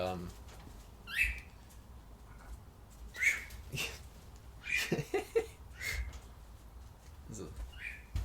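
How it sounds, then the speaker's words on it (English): A bird indoors or nearby lets out sharp, high chirping calls in scattered bursts, roughly five over several seconds, each brief and bright, sounding over quiet background noise and soft conversational voices. "Oh, you annoying bird."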